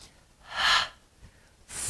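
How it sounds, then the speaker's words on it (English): A single audible exhale during a grounding breathing exercise, a soft airy breath that swells and fades in the middle, with another breathy sound starting near the end. "Exhale"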